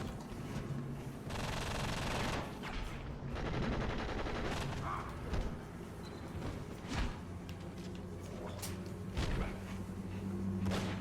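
Gunfire in the video game Enter the Matrix, rapid bursts of shots and thuds repeating across the scene, dense and fairly loud over game music and noise.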